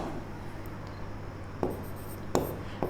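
Chalk or marker writing on a board during a maths class, with a few distinct strokes and taps standing out over low room hum, and no talking.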